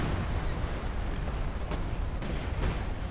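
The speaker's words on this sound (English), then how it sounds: "Artillery, though, coming on in on the Soviets." Artillery fire in the video game Company of Heroes 2 pounds during a 4v4 battle on the Steppes map, a dense roar of booms and rumbling blasts under faint background chatter.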